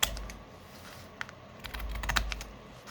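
Scissors cutting through Amazon packaging material for a soft-cover journal, heard as a series of light, crisp snips and rustles close by, with quiet gaps between cuts and no talk.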